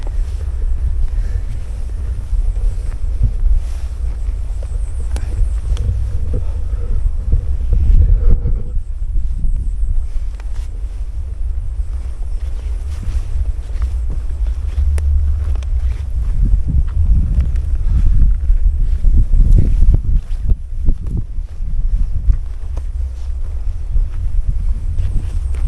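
Wind gusting steadily across a mountain trail on Gunung Arjuno, a continuous low rumbling buffet over the microphone that swells and eases throughout with no voices.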